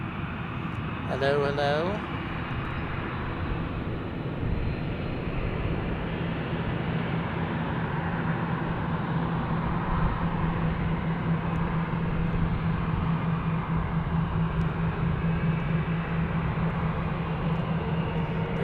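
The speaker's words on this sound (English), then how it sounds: "They're taking off and arriving on runway 21 with the winds today." Steady broad roar of a jet aircraft at Albuquerque's Sunport airport, runway 21, building and holding across the whole stretch, with a short spoken greeting near the start.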